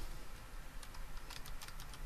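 Quiet keystrokes on a computer keyboard while editing a value in Fireworks software, a short cluster of light clicks in the second half over a steady background hiss.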